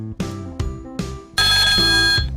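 The RA duty phone rings with an electronic ringtone: three separate tonal chimes, then a louder, sustained ringing pattern, close and clear with no voices.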